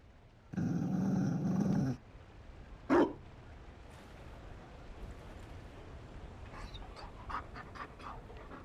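A Mabari war dog in the fantasy video game Dragon Age: Inquisition growls with a low, rough rumble for over a second, then gives a short huff, followed by faint panting and light clicks over quiet game ambience.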